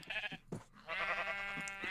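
Sheep bleat in Minecraft, a few short wavering calls followed by a longer sustained bleat, fairly close and clear with no talking over them.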